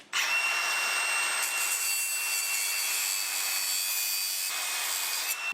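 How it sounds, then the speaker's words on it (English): An abrasive grinder cuts a stud off a Quadrajet carburetor from a 1964 Chevelle El Camino, giving a steady, shrill metallic whine that holds for about five seconds with no talking. "Grinding this stud off of our Quadrajet carburetor that's so unmolested."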